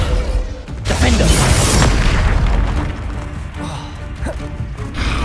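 Booming, crackling spell blasts from combat in Hogwarts Legacy, with fiery bursts and impacts in quick succession, loud and close over a dense rumbling game soundscape.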